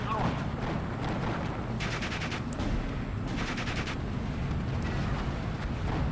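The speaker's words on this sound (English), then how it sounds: "our commandos are now firing away with their boys AT on my Panzerjäger" Commandos in the Steel Division 2 wargame fire Boys anti-tank rifles at a Panzerjäger, heard as rapid crackling bursts of gunfire over a constant battle rumble, with talk running beneath.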